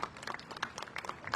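Crowd applause at a Chinese military parade in Tiananmen Square, Beijing: dense, steady clapping from many hands, moderately distant, with scattered sharper claps rising out of the wash.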